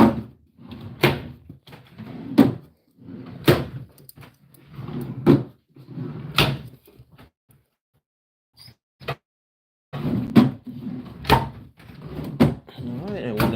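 Drawers of an IKEA MALM 6-drawer dresser slide open and shut one after another in a room, each run ending in a sharp close thud, with a short pause midway.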